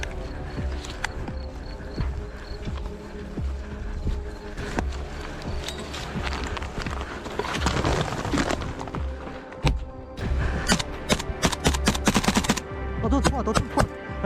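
Sustained gunfire during a trench assault in frontline combat, sharp cracks and bursts near and far that grow denser toward the end over a steady rumbling background.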